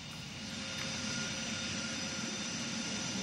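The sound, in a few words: airplane landing at Orly airport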